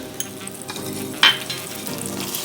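Brown sugar hits hot, smoking oil over medium-high heat and sizzles in a steady, close, crackling hiss, with one brief metallic clink partway through.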